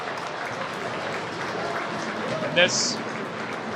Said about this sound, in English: Spencer Barrow gets a hand from the crowd as he is attended to by his teammates and his coaches.